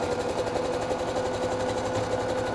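A sewing machine runs a steady stretch of stitches along a 1 cm seam allowance at the center back of a drawstring camisole, a close, even, rapid mechanical whir and tapping with no talk.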